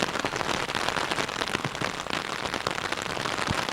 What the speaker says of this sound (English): I'm not entirely sure how long this rain will last.